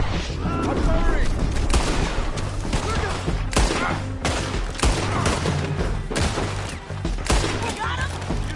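Rapid gunfire from a Red Dead Redemption 2 shootout, loud repeated shots and bursts cracking across the whole stretch, with people talking over the fighting.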